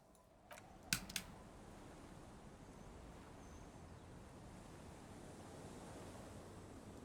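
Wind blows steadily and softly through a harbour in the Disco Elysium video game, a constant hiss-like wash. A few faint clicks come near the start.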